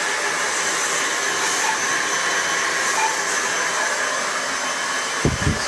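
A hair dryer blows a steady, loud, close whoosh over hair, unbroken throughout, with a couple of faint knocks just before it ends.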